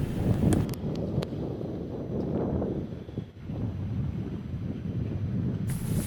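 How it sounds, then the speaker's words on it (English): Strong wind buffets the microphone outdoors on the Gibraltar waterfront, a loud continuous low roar with gusty surges and brief rustles, heard alone with no voices. "The weather today was really perfect, despite the wind, as you can hear"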